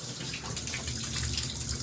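Water draining out of an old boiler during a replacement install, a steady rushing gush of flowing water that runs unbroken through the short stretch.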